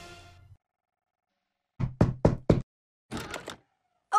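Four sharp knocks on a door in quick succession, loud and close, set among short bursts of other sound and brief silences, with no talk over them.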